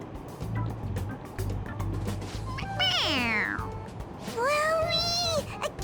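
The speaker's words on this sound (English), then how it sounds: "It meows when you press on its head." A toy cat in Persona 5 Royal meows twice when pressed on its head, two clear, loud, rising-and-falling cries about a second apart over a low background hum.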